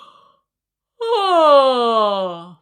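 A singer's deep, open-throated yawn voiced as a big, low, muffled sound with a raised soft palate, rising in a sustained sigh-like tone that slowly drops in pitch after a short pause.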